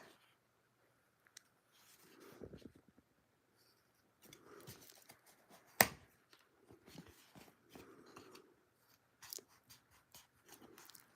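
Scissors cut out paper pieces in short, quiet snips and rustles, spread irregularly with pauses between, plus one sharp click partway through; faint and close, with no talk.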